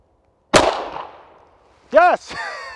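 A single sharp, loud Tisas Raider pistol shot fired at 7 yards, with a ringing decay that fades over about a second, followed by an excited shouted voice.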